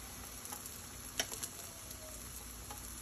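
Eggs and potatoes frying in a pan, a soft steady sizzle with faint crackles and a few small ticks, fairly quiet and heard alone.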